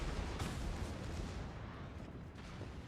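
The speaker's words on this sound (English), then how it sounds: "His secondaries continue to fire on both sides" Naval secondary guns firing repeatedly from both sides of a warship in World of Warships, a dense wash of booming blasts that stays constant and fairly quiet throughout.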